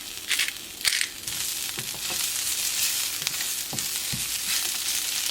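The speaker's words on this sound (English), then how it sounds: "Saute up some kale really quick, a little bit of olive oil, add in some pepper and garlic salt" Kale sautés in a little olive oil seasoned with pepper and garlic salt, a close, continuous sizzle broken by scraping stirs and crackling pops.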